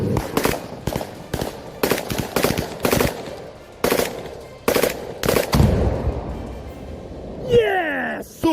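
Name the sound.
automatic gunfire shooting at a Russian FP-5 drone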